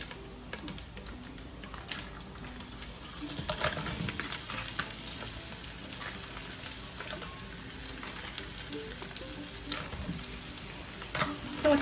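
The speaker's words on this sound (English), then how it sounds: "I'm gonna get the crab and toss it back in here." Dungeness crab legs tossed with homemade fettuccine in a garlic lemon butter sauce in a pan with the heat off, giving soft steady sizzling and stirring scrapes with occasional clicks, close and fairly quiet throughout.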